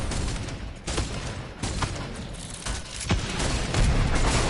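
Grenades and gunfire going off in a MOBA game, a dense, loud barrage of booms and crackling bursts with sharp blasts recurring every second or so.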